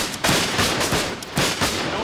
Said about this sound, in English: Our volleys, their volleys.